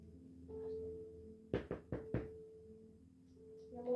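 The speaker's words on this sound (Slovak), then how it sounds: "Počkaj, ma niekto klope." Four sharp knocks on a door in quick succession land over a steady electronic hum and a low background tone during a Minecraft gaming session.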